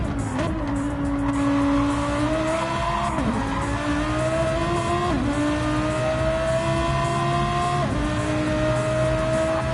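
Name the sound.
Lamborghini race car engine on a flying lap, from a racing video game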